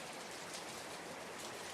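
Steady rain falling as a dense, even hiss with no breaks, soft and continuous like a sleep soundscape.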